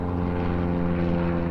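Propeller aircraft drone overhead in a steady, loud, continuous rumble with strong low engine harmonics, as several planes pass in an aerial parade; no voices.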